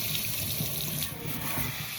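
Tap water pouring steadily over a girl's head as her freshly dyed hair is rinsed in a sink, a continuous close splashing rush with no break.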